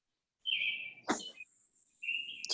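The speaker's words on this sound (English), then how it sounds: "Mario, quiet the bird." Indoors during a township committee meeting, a bird lets out bright, clear chirps and whistles: a sustained tweet, a sharp squawk, then another whistled call, close and loud with no speech over it.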